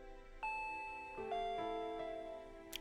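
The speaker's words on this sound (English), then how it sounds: "Ding dong. I jumped at the sound and dropped my chopsticks. That chime signaled that Rena had arrived." A two-tone doorbell chime rings once in a quiet home, a bright high note sliding down to a lower sustained tone, clear and close with a lingering ring.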